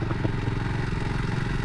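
A Kawasaki W230 (Meguro S1) motorcycle rides at night, its engine a steady, close, continuous rumble with slight mechanical clatter throughout.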